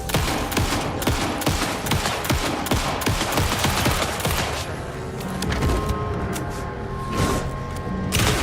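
Rapid, dense bursts of gunfire and heavy blasts from a shotgun in Shadows of the Damned, a horror action game, pounding loudly and continuously under a thick layer of game noise with no voices.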